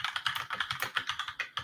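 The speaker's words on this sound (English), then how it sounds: "Who's typing?" Rapid typing on a computer keyboard clatters close and continuous, with evenly spaced key strikes forming a brisk, steady rhythm with no talking.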